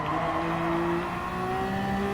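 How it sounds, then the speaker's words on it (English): LMP1 prototype race cars in the Gran Turismo Sport racing game, engines roaring loudly and steadily at high revs throughout, with rising and falling tones as the cars battle closely. "That's how the spectators really loves to see how the LMP1 race cars can battling out each"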